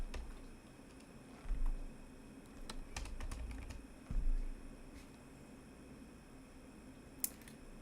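Computer keyboard keys clatter in short irregular bursts of typing, close but fairly quiet, with a few isolated clicks between the runs and no talk over them.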